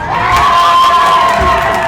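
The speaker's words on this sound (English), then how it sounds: "that was the cheer from the Growlers" A crowd of Growlers fans cheers and shouts loudly at a baseball game, a dense, sustained roar of excited voices with children's shrieks mixed in.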